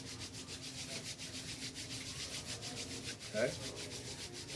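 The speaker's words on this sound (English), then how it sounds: "Take your hands and rub them together." Two palms rub against each other in a quick, even rhythm of soft swishes, heard up close and quietly, with one short spoken word near the end.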